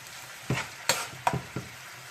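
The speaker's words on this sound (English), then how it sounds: "onions, as you can hear that sizzle" Onions sauteing in a pan while being cooked for a cheesy spinach and bacon dip give off a low, steady sizzle, broken by a few sharp clinks and scrapes of a spoon stirring them.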